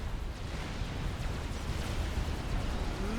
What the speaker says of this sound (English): It does get a bomb off, but it gets a bomb off and it hits the fighters in midair